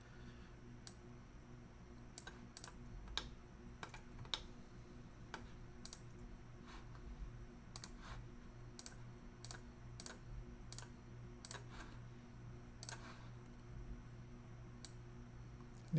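Sharp, dry mouse clicks tapping out one by one at an uneven pace, close and fairly quiet over a low steady hum while someone works in Blender 2.8.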